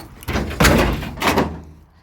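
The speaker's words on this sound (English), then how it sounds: "And then when we close our door here," An old car's passenger door with a newly built floor pan shuts in a couple of solid thunks close by, with a short knock between them and a quiet tail.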